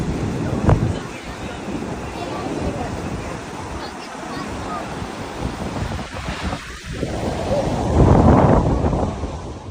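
Breaking surf from Hurricane Erin on North Carolina's Outer Banks washing over Highway 12, a continuous roaring wash of heavy waves with gusty wind buffeting, surging louder near the end.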